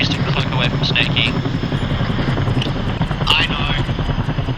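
A helicopter thrums steadily overhead in a military operation, a loud continuous rotor chop with engine noise, while voices come over the radio.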